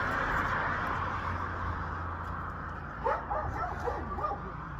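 A dog lets out a short run of yips and whimpering barks in the last couple of seconds, close by over a steady low background rumble, with no talking.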